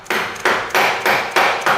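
A rubber hammer strikes the parts of a metal shop bender, five or six evenly spaced solid knocks, close and loud, each with a short ringing decay.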